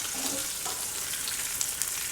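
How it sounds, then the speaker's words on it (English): Chile relleno peppers frying in hot oil in a pan, giving a steady, close broadband sizzle with a few small pops and crackles, no voices. "As you can see, they're frying up just nicely"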